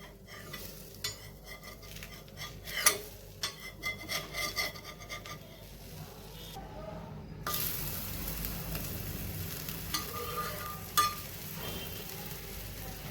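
Mango surnoli pancake, brushed with ghee, flipped and cooking in a pan with a steady low sizzle and scraping of a spatula, a brief quieter gap midway before the frying resumes close by.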